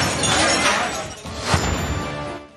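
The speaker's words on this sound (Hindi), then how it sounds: "एक बार फिर धक्कम पेल हुई, जिससे दरवाजे का शीशा दूसरी बार टूट गया।" Door glass shattering during a crowd scuffle, a loud crash of breaking glass with tinkling shards over crowd noise, peaking briefly midway.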